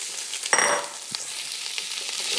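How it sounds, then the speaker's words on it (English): Ham dropped into hot oil with sofrito, a sudden loud sizzle burst that settles into a softer steady frying hiss with a few small clinks. "All right, I'm going to put the ham in."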